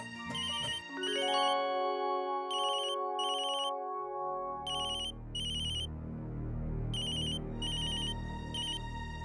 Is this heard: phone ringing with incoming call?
yes